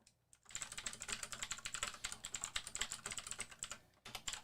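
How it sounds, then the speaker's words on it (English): Loud, rapid clacking of fingers on a computer keyboard, close and continuous for about four seconds after a brief quiet start, with a short pause near the end before the keys resume. No voices. "I'm going to type loudly so you know I'm typing"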